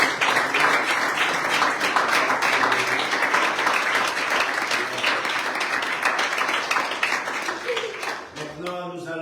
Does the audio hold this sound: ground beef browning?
no